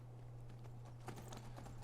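Horse hooves clip-clopping in Skyrim, a quick, steady run of soft thuds over a constant low hum, faint and brief.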